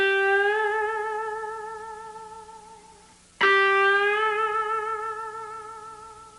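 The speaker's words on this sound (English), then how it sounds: "The B string is probably the easiest string to bend, so let's bend that first." Two sustained electric guitar notes on the B string, each bent upward in pitch. The first rings and slowly decays, then a fresh pick attack starts a second bend that rises and rings out. Steady, close and solo.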